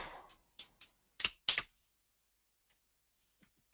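Several crisp keystrokes on a computer keyboard in a quiet room: a quick run of taps, then two louder, closer presses, followed by near silence broken by a couple of faint stray clicks.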